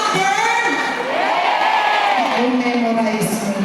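A packed crowd at a political rally in a sports complex in Santa Rosa shouts and cheers loudly and continuously, with children's voices rising above the steady roar.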